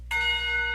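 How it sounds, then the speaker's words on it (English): A clock tower bell in the Katawa Shoujo visual novel strikes once, a bright sustained metallic tone with ringing overtones that begins abruptly and hangs without decay through the short moment. "The clock tower bell rings,"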